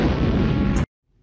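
A loud, dense explosion sound effect booms for nearly a second, then cuts off abruptly into near silence.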